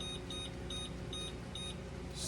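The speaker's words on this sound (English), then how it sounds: "I'm fixing to turn my timer on for 5 minutes." A kitchen timer, set while fudge cooks on a stovetop burner, chirps in short, faint, high beeps in quick pairs at a steady pace over a constant hum of background noise.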